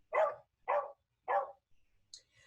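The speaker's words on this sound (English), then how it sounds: "now you can hear my dog" A pet dog barks three times in quick succession nearby, loud and distinct, followed by a faint whimper and small noises in an otherwise quiet room.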